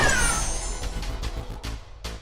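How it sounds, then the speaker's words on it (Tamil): A cat meows in an audio drama, several short mews repeated over a loud sustained musical or ambient bed. "அது ஒரு பூனையின் உருவத்தில் மாறி நிற்க"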